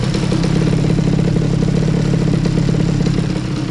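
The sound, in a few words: scooter engine revving with Yasuni C30 exhaust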